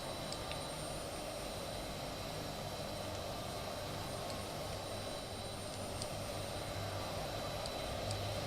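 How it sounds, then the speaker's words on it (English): A small jet in a flight simulator video game, its engine a steady broadband roar with a faint high whine, constant and unbroken, no voices. "So we got Crowfoot in this little tiny jet."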